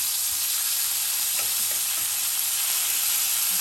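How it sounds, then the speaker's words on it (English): Pork chops sizzling in a pan as they are flipped, a steady loud frying hiss throughout with faint soft taps and scrapes. "now it's time to flip these pork chops on over"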